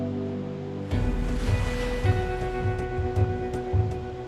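Ocean waves wash and break along an African shore where penguins swim, a continuous loud surf roar rising in after a quieter start, with rhythmic surges of water.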